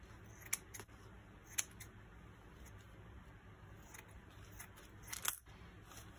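Scissors cutting paper for a mosaic art journal, with a few faint, crisp snips spread over several seconds against a quiet room hum.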